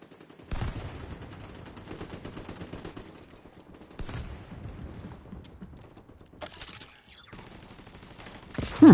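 Rapid bursts of automatic gunfire in a video game firefight, several sustained volleys separated by brief pauses, with sharp mechanical clacks between them and a louder shot at the end.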